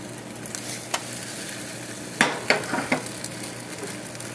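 An omelet fries in a pan right after being flipped, giving a soft steady sizzle with a few brief clinks and scrapes of the spatula partway through.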